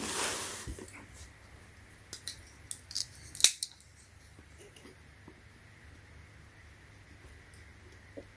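Packaging of a Samsung Galaxy Z Fold 3 512GB being opened: a burst of crisp snips, crinkles and rustling clustered in the middle, then mostly quiet handling.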